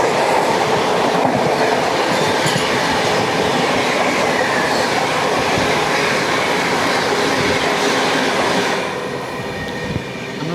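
Bandra Haridwar Express rolling steadily along the rails, a loud, continuous rumble with rhythmic clickety-clack of wheels over joints, easing slightly quieter near the end.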